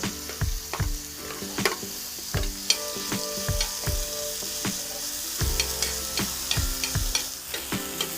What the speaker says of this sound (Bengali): আপেলটা ভাজা হয়ে গেছে, এখন তুলে নেব।